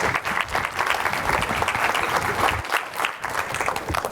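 A conference audience claps steadily to welcome a speaker on stage, a loud, dense wash of applause that holds for the whole stretch without a break.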